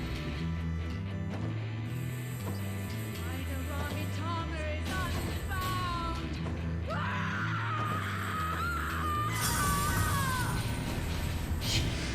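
A voice actress screams with intense emotion in a Final Fantasy 14 cutscene, a long anguished cry rising over swelling orchestral music, with gasps and strained vocal sounds around it.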